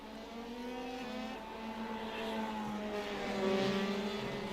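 Open-wheel F3 race cars from a sim racing game at Oulton Park, engine tones rising and falling as they shift gears and chase through corners, a steady faint drone with a building pass near the end, no voices.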